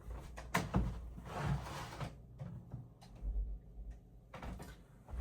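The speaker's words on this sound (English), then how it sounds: "let me close the door real quick" An indoor door is swung shut, with a few soft bumps and knocks at moderate distance and a clunk as it settles, with room hum in the quiet gaps and no talking.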